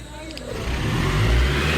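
A Ranger car's engine rumbles low and steady, building as the vehicle pulls away, with road noise filling in around it and no voices.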